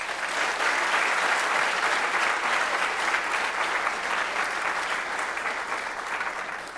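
Sustained applause from a school assembly audience at Gilman welcoming a coach to the stage, a dense, steady clapping that fills the whole stretch and fades slightly toward the end, with no talk over it.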